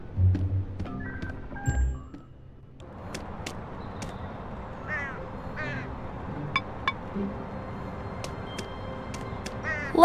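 A bird caws in the point-and-click game Elroy and the Aliens, a couple of harsh, close calls at the start, followed by quieter game ambience with scattered small clicks and chirps.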